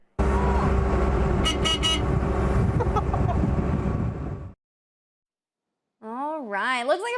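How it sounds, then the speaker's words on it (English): A vehicle horn toots in short blasts over a loud, steady engine roar that suddenly cuts out. After a silent gap, a voice is heard. "Yeah, tooting the horn, too."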